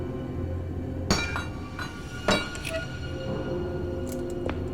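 Glass struck with a hammer in the video game Tormented Souls 2, giving two sharp clinking impacts about a second apart over a steady low hum, then faint tinkling.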